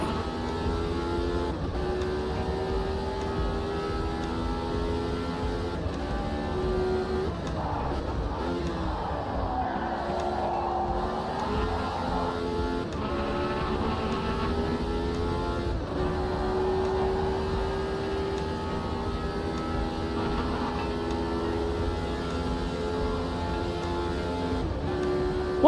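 A 1979 racing car engine from a racing video game drones steadily and loudly throughout, its pitch sliding up and down through gear changes and corners, with no talk.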